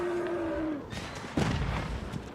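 Bombard cannons fire in an Age of Empires match, sharp booming blasts cutting in after a tonal game sound, with a second heavier impact midway and lighter crackles trailing off.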